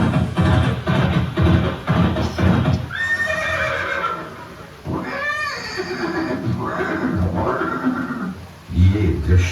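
Chetak, the horse of Maharana Pratap, whinnies in a loud, drawn-out, wavering neigh midway, with hooves clip-clopping and a voice talking around it.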